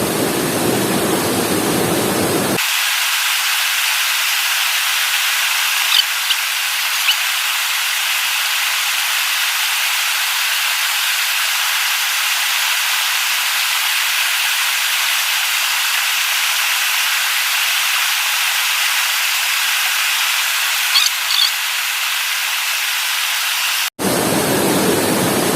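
Water rolls at a boil in a pot for cooking noodles, giving a constant loud hissing, rushing roar that holds steady the whole time, with brief louder noise at the very start and end.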